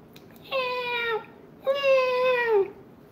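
Two drawn-out, tonal meows, each around a second long, rising and then sliding downward. They are clear and close, with a short silence between them and no talk.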